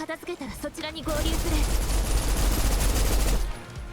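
Rapid automatic turret fire in the video game Snowbreak blasts loud and continuous for about two and a half seconds, following a short stretch of speech.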